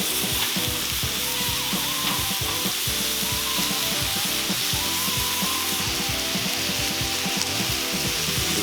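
Chicken wings crisp on a Cuisinart 360° griddle, a loud, continuous sizzle and crackle of frying with scattered pops, steady throughout.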